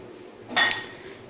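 A metal pan is set down and handled in a kitchen while cooking Burmese khauk swe: one short, close clatter with a bright metallic ring, then quiet room tone.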